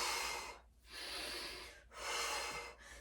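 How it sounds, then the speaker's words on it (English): Breathing in during a pilates exercise: two long, loud, airy inhalations through the nose and mouth, close up, with a brief pause between them and no talking. "We're going to breathe in as we switch."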